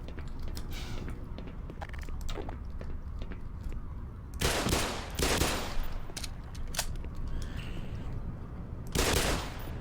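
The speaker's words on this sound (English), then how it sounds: "And now I'm afraid I'm gonna have to shotgun it to death." Gunfire in the video game Black Mesa, with several loud, sharp bursts standing out over a constant noisy background and scattered smaller clicks and cracks.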